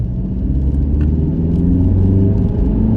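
An Audi TT S line accelerating in comfort mode, a steady, loud engine rumble with low whirring drone that holds evenly throughout, with no voices.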